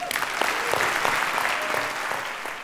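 An audience applauds at a 2021 prize-giving ceremony: steady, dense clapping from a large crowd that stays loud from start to finish, with no pauses and no voices above it.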